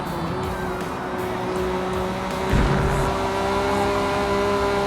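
A Honda NSX-R race car at Road Atlanta holds a steady, loud engine drone with a sustained whine, shifting slightly and picking up a heavier rumble midway as it rounds a bend.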